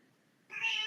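A house cat gives a single short meow near the end, fairly close and clear after a quiet lead-in.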